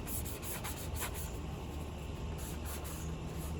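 Sanding the grooves of a round pan: a continuous abrasive rubbing, close and fairly loud, with rhythmic back-and-forth strokes that pulse roughly twice a second and no talking.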